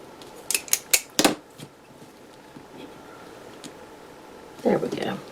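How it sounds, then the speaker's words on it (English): Scissors snip a planner page: a quick run of four or five crisp close cuts, a pause, then a short rustle of paper, with someone talking quietly between. "I'll do it again. I don't want to cut through the whole page."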